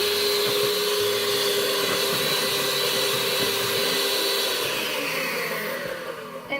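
An electric mixer churns cream into homemade butter, a loud, steady motor whir with a constant high whine that runs unbroken, then eases slightly near the end.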